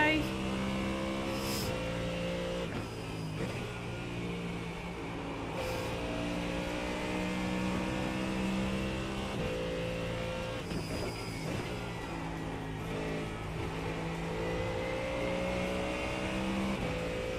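A race car engine drones steadily through a practice session in a racing video game, its harmonic whine rising and falling with gear changes and brief lifts of the throttle, while a player talks over it.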